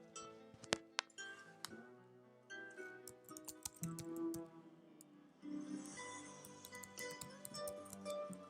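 Fast typing on a computer keyboard during data entry in an office application, quiet and close, with irregular bursts of key taps and a few louder clicks.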